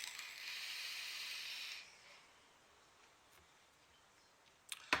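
Vapor hissing from an OBS Crius atomizer, a steady airy draw lasting under two seconds that then drops away, with a small click near the end.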